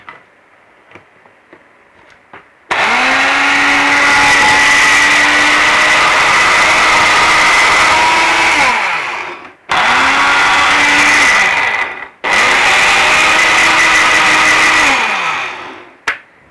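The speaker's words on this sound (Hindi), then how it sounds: "थोड़ा सा और पीस लेते हैं" A mixer grinder whirs loudly while grinding sesame seeds and sugar, running in three bursts, the first long and the next two shorter, with clear stops between them.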